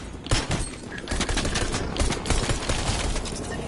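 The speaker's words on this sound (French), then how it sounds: "Il m'a tué d'une balle dans le dos alors que j'avais toute ma vie." Gunfire in the Battle for America video game: rapid bursts of shots in a dense fusillade, loud and continuous throughout.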